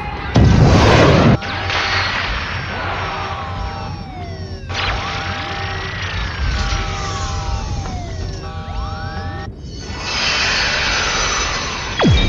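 A black alien aircraft from Ultraman Nexus roars past loudly, its engine whine sweeping up and down through several fly-bys, with sharp whooshes and bursts breaking in, all alone without voices.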